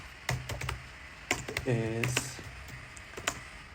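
Clicky keystrokes on a computer keyboard come in short scattered bursts, close and fairly light, with a person talking over them.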